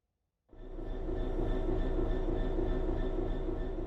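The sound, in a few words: BR Class 66 diesel-electric locomotive in a train video game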